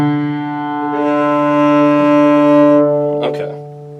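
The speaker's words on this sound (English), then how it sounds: "Now, your D is going to sound like this." An open D string is bowed on a string instrument, a steady sustained harmonic tone held for several seconds, swelling slightly in the middle before a brief scratchy shift and fade.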